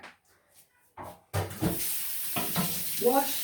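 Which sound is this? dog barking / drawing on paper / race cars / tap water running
tap water running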